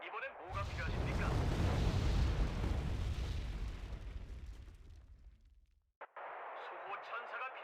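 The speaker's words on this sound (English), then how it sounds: "Mortar, there's a mortar." Mortar rounds in Wargame: Red Dragon explode in one long, heavy, rumbling blast that swells and slowly decays over several seconds, then cuts to quieter battlefield noise.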